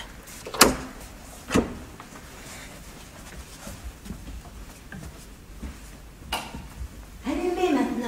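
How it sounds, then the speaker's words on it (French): A door being shut in a radio mystery drama: a few sharp knocks and thuds spaced across several seconds, with low voices and room noise between them. "Je referme la porte."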